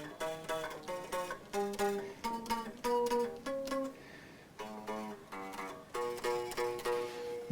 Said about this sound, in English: what you're hearing there is what I call fret slap